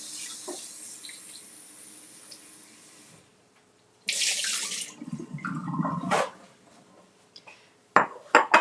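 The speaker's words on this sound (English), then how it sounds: "I'm going to rinse them off." Strawberries get rinsed under a kitchen tap: water runs steadily, then stops, then comes back in louder splashing bursts as the berries are handled, with a few short clatters near the end.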